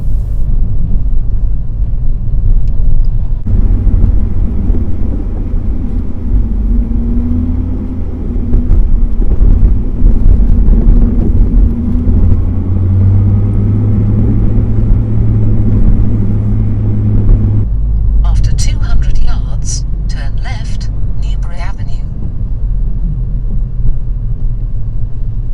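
A learner driver's car coasting through a corner with the clutch held down during a mock driving test in Enfield, a steady low rumble of road and engine noise that persists throughout before rougher rattling near the end.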